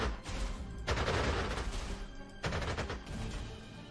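Heavy gunfire in the Panzer Corps 2 strategy game set in the Spanish Civil War, two loud sustained bursts of rattling shots and booms with a short break between them.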